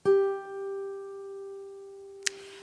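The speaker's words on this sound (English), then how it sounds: "I want you to put that on the G string." One sustained guitar note rings out, fretted with the ring finger at the 12th fret of the G string, clear and steady before a small click near the end.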